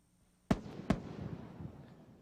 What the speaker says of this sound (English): the twin sonic booms announce the arrival of the orbiter in the landing site area